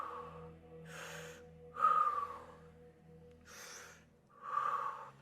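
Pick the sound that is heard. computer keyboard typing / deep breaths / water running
deep breaths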